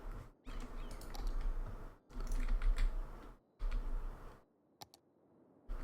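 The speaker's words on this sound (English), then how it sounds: "excuse my incessant mouse clicking" Rapid bursts of computer mouse clicking come in three dense clusters separated by short pauses, then a couple of sharp isolated clicks near the end, close and fairly quiet.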